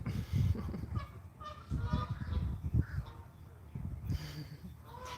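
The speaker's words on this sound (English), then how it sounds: "Hey, duck!" Honking waterfowl calls repeat outdoors in a South Jacksonville park, a series of loud nasal honks mixed with a voice and background noise.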